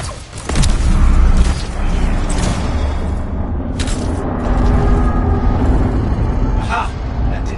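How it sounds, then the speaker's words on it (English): An ancient Shaper ruin door mechanism grinds open in the video game Anthem, a loud, continuous rumbling and creaking roar with heavy low booms and occasional sharper clanks, sustained throughout. "Let's see if the door opens."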